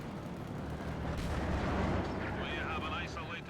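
A bundle grenade thrown by Panzer Grenadiers bursts in a Company of Heroes 2 battle, a deep rumbling boom amid continuous distant battlefield noise, with a faint whine rising afterward.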